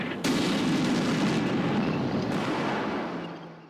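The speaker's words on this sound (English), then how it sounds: "these 155mm artillery strikes were not random, but were being directed through a drone targeting my units at the start of every turn" 155mm artillery shell strike in the tactical video game Combat Mission Black Sea: a loud, close, sudden blast followed by a long roaring rumble that slowly fades.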